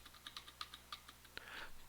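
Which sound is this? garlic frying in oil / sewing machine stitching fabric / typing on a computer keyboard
typing on a computer keyboard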